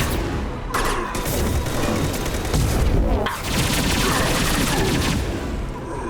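Rapid laser weapon fire in the sci-fi shooter Mass Effect 2, loud and continuous bursts over about six seconds amid combat noise, with a brief swell near the middle.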